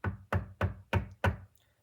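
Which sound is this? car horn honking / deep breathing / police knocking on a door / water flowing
police knocking on a door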